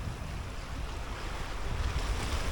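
Waves breaking over the edge of a reef in Jamaica, a continuous loud roar of surf with wind buffeting the microphone, close and steady throughout, no talking.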